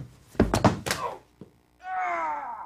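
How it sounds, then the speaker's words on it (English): A body tumbling down a flight of stairs as a sound effect: several heavy thumps and bangs in quick succession, then a short pause before a sustained tonal sound with a sliding pitch takes over. "Falling down the stairs and breaking your ankle doesn't sound good."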